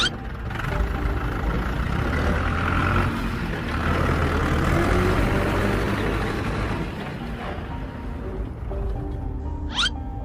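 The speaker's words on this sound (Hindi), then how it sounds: "थोड़ी देर बाद उन्हें एक मॉन्स्टर ट्रक की आवाज़ आती है।" A monster truck engine rumbles loudly and continuously near a house, a dense, rough drone holding steady for about ten seconds.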